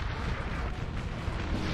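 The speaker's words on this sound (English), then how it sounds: "Artillery focusing on this one unit, trying to get him to break." Dense, continuous rumbling booms of artillery fire in a Napoleonic Total War 3 battle, loud and thick with overlapping blasts, with no clear separate shots.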